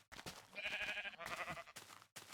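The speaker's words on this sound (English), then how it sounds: "We have a pink sheep." A pink sheep in Minecraft bleats in a long wavering cry, loud and close, followed by a shorter second bleat and a brief final one, with no talk over it.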